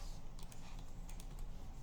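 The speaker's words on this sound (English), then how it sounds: "Let me just type GET request" Quick, light clicking of keys on a computer keyboard, several rapid taps in short bursts, close and alone without talk.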